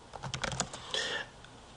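Quick keystrokes on a keyboard, a short run of light clicks followed by a brief rattling burst, quiet and close with no speech.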